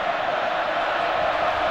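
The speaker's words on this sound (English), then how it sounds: "Crowd's into it." Crowd at a Kansas vs Kansas State college football game in a stadium, a steady dense roar of cheering that holds at an even level throughout without breaks.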